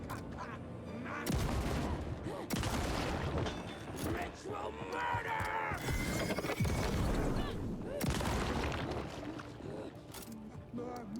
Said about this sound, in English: it's a double barrel shotgun